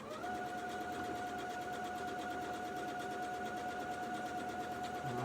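Steady, rapid whirring and rhythmic needle clatter of a sewing machine stitching Japanese fabric quilt blocks, running continuously at close range with a faint hum, no talking.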